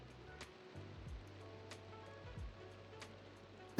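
Water splashing in the Minecraft video game, a soft continuous wash of water noise with faint low tones underneath, fairly quiet and with no talking.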